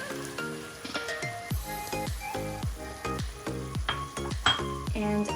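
Chicken pieces simmering in a pan with enchilada sauce, a steady close sizzle and bubbling broken by repeated clinks and scrapes of a utensil stirring against the cookware.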